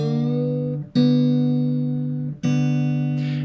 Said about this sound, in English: I'll check the D string and the B string for a major 6th.